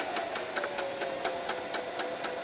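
A sewing machine runs steadily while top stitching a fabric scrunchie close to the edge, its needle ticking in an even, rapid rhythm over a constant motor hum.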